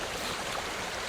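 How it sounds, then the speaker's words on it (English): Steady river water flowing along a trout stream at the end of the season, a continuous broadband rush with no clear gurgles, moderately close and unbroken. "it's nice to see just this bit of extra water coming down now"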